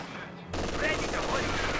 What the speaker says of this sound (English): Yes, this is the MG42. And it should open up on these Grens real soon.